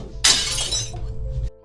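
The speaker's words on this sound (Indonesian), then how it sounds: "Namun secara sengaja Lia menjatuhkan piring itu dari tangan Maura." A plate slips from a hand and shatters, one sharp bright crash followed by about a second of scattering shards that ends abruptly.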